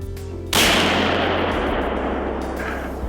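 A single loud rifle gunshot is fired at a deer during a hunt, cracking sharply after a moment of quiet and then rolling away in a long fading echo.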